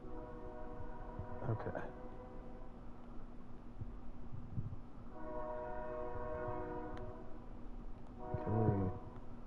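A train rumbles past, sounding its horn in several separate long blasts, loud and fairly close, with a person briefly speaking at the end.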